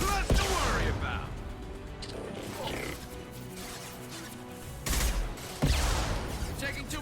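Gunfire from the video game Mass Effect 2 comes in sharp bursts near the start and again toward the end, with quieter combat noise and faint voices between the volleys.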